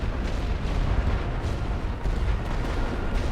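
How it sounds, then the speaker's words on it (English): Light artillery fire in The Great War: Western Front, a dense continuous rumble of distant booms and bursts that rolls on steadily without a pause or any voice. "throw some light artillery at their back trench"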